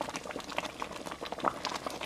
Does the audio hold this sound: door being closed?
no